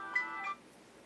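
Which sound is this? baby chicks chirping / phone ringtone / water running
phone ringtone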